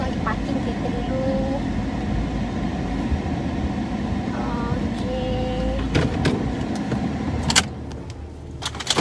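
A car driving slowly while hunting for a parking spot at a landed house, steady engine and road rumble throughout with a few short tonal beeps and a clunk near the end.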